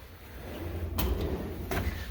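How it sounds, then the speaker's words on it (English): A drawer on a dental table in a veterinary instrument sterilization area is pulled open, two short sliding bursts close to the microphone over a steady low room hum. "let me just show you the drawer we have here on our dental table. So we're just going to open this up."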